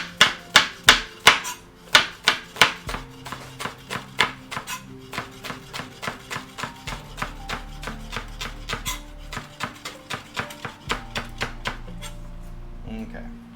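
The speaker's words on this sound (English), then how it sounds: "So let's get chopping." Knife chopping food on a cutting board in a home kitchen, a steady run of crisp, close taps, heavier and evenly paced at first then quicker and lighter, with low talk running underneath.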